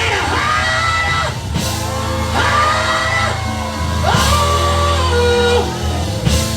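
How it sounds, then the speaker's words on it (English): A revival service congregation at City of Praise Ministries hollers and shouts together loudly, and the swelling yells and whoops rise in repeated waves over a continuous crowd roar. "Now I dare to hold your head back and open up your mouth and holler."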